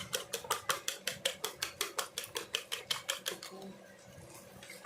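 Eggs with chopped chillies are beaten in a bowl with a fork or spoon, a quick, steady run of about twenty clinking strokes. The strokes fade out near the end, leaving quiet background noise.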